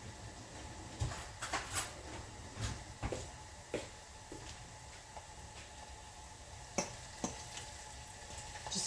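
Chicken breasts frying in batches in a pan, a steady sizzling hiss with scattered sharp pops and ticks, close up, with occasional utensil knocks.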